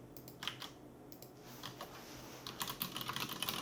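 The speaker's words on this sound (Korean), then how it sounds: "자전거 장갑 이렇게 쳐주시고" Fingers type on a computer keyboard, tapping out soft keystrokes nearby in short irregular bursts that grow quicker and denser toward the end, with no voice over them.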